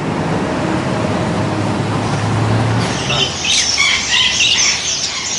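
Birds at a bird merchant's shop in Misrata, with a cluster of shrill squawks and chirps in the second half over a low steady rumble of traffic.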